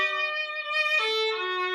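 A single sustained violin note, E flat played with a low fourth finger, sounding clean and fairly quiet with a slight shift partway through, with no talking.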